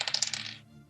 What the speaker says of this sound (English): Yeah, you hear that dice?